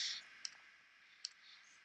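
Three sharp, faint computer mouse clicks spaced evenly apart, selecting parts of a 3D model in a quiet room with no talking.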